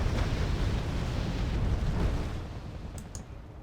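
Bombs exploding in the Wargame: Red Dragon video game: a dense, continuous roar of overlapping blasts and rumble that thins slightly toward the end, loud and sustained.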